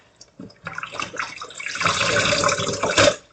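Collard greens washed in a sink of water, with small splashes at first that build into a continuous, close swishing and sloshing lasting a few seconds.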